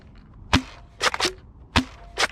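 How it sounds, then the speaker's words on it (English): An X-Shot Pro Series Fury-X foam blaster firing Ember foam darts outdoors: four sharp, snappy pops spaced irregularly, each with a brief springy twang, close and fairly loud with no talking. "Now let's fire some shots downrange, starting with our remaining ember darts."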